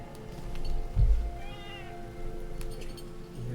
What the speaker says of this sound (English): I'm trying to do some cat wrestling to keep her entertained and happy, so she's not crying at me.